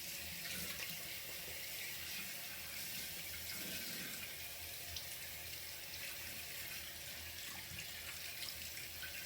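A tap runs steadily while facial cleanser soap is rinsed off, an even, continuous hiss of flowing water with no break and no talking.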